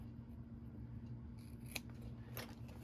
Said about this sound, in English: Now we're going to snip right up to there. We're going to trim this corner